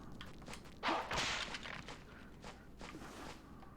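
Footsteps in the Castlevania video game, a run of soft thuds and scuffs heard fairly near, with a louder whoosh-like burst partway through.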